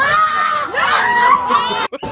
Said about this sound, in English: So that's the scream.